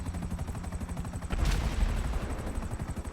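A Khanjali tank in a GTA video game fires a charged railgun shot, a sharp loud boom with a rumbling tail following a buzzing, pulsing charge-up hum.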